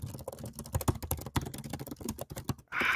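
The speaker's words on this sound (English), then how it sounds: "So we're watching Kelly type right now." Rapid, dense keyboard typing clatters close up in a typing race, a fast irregular stream of key clicks with no voices.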